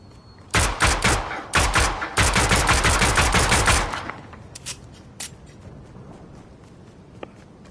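A bootleg 1911 pistol fires in a Fortnite solos match: a dense, loud run of rapid shots for several seconds, then a few scattered, fainter shots and clicks.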